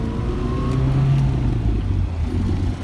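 A 1987 Bertone X1/9 engine pulling through second gear, with a steady mid-pitched hum that whines up slightly, heard from inside the car at moderate volume and without speech.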